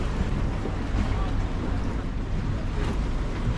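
A gondola crossing the water in Venice, with a steady wash of water and wind rushing over the microphone while people talk quietly nearby.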